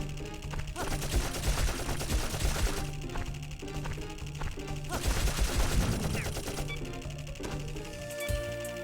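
In the video game Dark Cloud, a moving enemy fires in rapid, clattering bursts of gunfire that come in two loud waves over a steady game background.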